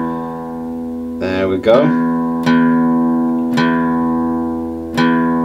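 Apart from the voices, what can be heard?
guitar low E string being tuned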